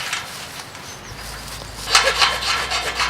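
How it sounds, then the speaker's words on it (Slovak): Steel is cut slowly with a hand saw, producing rough rasping strokes that grow louder and more rhythmic toward the end, close by. "Pomáličky, oceľ sa píle pomáličky"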